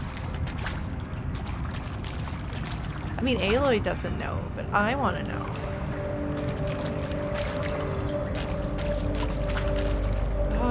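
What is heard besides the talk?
footsteps tromping through water, Horizon Zero Dawn video game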